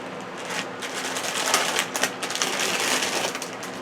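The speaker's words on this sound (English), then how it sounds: "I'll reduce on the crinkling" Plastic bead order packaging crinkled and handled continuously at close range, a loud dense rustle with crackling bursts throughout and no voices.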